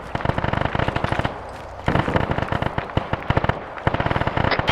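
Incoming gunfire from a forest to the southwest, rapid bursts of loud cracking shots in fast rattling strings with brief pauses between volleys.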